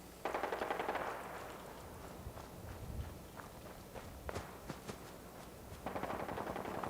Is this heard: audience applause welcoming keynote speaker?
no